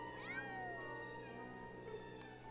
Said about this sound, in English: There are cats around.